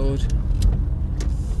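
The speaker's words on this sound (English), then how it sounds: "I'd got a car overtaking me, and another one decided to overtake me at the same time" Cars overtaking on an open road, heard from inside a moving car as a steady road and engine rumble with a couple of brief whooshing passes. A voice is faintly present.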